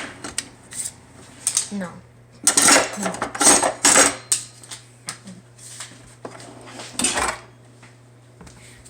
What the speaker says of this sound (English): Ninja 76 is going to get the knife